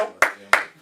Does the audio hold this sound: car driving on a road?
no